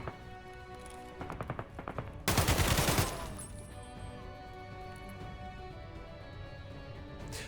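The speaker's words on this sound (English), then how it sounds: "I got shot by another guard, who ended up pushing and killing me." Gunfire in the game Escape from Tarkov, a raid against scav guards: a few scattered shots early, then a loud, dense burst of automatic fire lasting under a second, followed by quieter ambient rumble.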